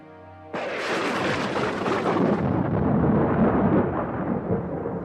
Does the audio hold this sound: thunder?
yes